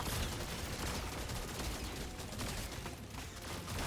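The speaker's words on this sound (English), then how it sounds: "So we fire out a ton of bullets" Rapid automatic gunfire from the Scout class in Deep Rock Galactic, a dense, continuous barrage of shots with constant loudness across the whole stretch, thick with layered combat noise.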